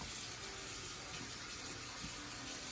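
Water runs steadily into a pot of pork bones for tonkotsu ramen broth, a continuous rushing splash with no pauses, close and fairly quiet, heard with no talking.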